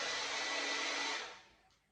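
A blow dryer blasts steady airflow onto hair, a loud close whoosh that holds for over a second and then winds down and fades as it is switched off.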